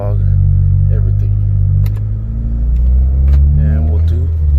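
A tuned car drives through city streets, its engine a low steady rumble with brief rises in revs. A voice talks over it at times, and a few faint clicks cut through.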